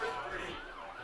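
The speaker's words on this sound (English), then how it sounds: "As we see the ambulance go by now" An ambulance siren wails faintly in the distance at a high school football game between Cadillac and Alpena, its tone rising and falling steadily for about a second.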